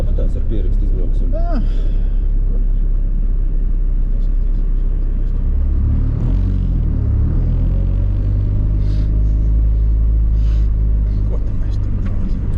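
A rally car at speed on a stage of the Cesvaine mini rally, heard from inside as a loud steady engine rumble with gear changes, while the crew talk over it.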